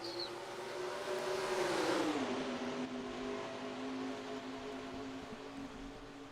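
A pack of race cars in a NASCAR-style sim race at Fontana, California, roaring at the start, with engines revving up and a loud drone that sweeps past, then settling into a steady sustained whine.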